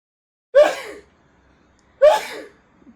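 A man sneezes twice, close and loud, each a sharp burst trailing off, about a second and a half apart, with quiet room tone between.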